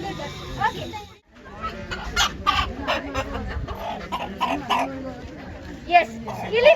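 A frilled hen clucks in short, close bursts held in someone's hands, mixed with people talking and other birds around.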